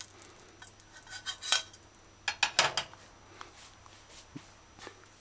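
A cooking spoon scraping and clinking against a pot while lifting berries out of hot oil, scattered metallic taps and scrapes in small clusters over a faint steady background hum.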